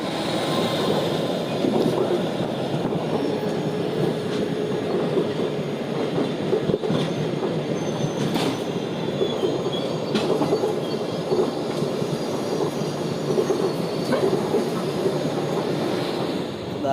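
Continuous rumble and rattle inside a 3rd AC coach of the Humsafar Express from New Delhi to Muzaffarpur, moving steadily, with faint rhythmic wheel clicks and occasional squeals over a dense, even roar.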